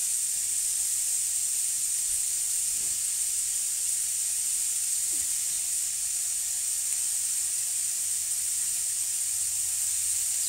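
Vegetables searing in a pan on an induction hob set to maximum, giving a steady, loud, unbroken hiss and sizzle that holds for the whole stretch.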